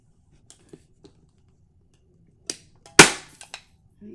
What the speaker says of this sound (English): Grab my staple gun.